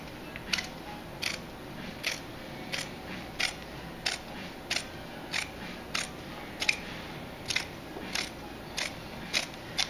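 Scissors snip through leather cut for a cap lining, about a dozen crisp, evenly spaced cuts close by against a steady faint hiss, with no talking.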